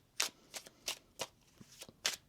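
Tarot cards being riffled and shuffled by hand, seven or eight quick crisp flicks in an uneven rhythm, close and quiet with no talking.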